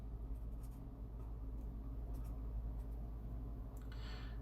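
Pen or marker scratching lightly across a writing surface during a predicate-logic lesson, a faint, close, continuous scribble in a quiet room.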